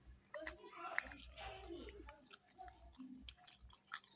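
Close, quiet chewing of rice eaten with grilled eggplant chili dip and blanched vegetables, soft irregular smacks and moist clicks with faint murmured talk nearby.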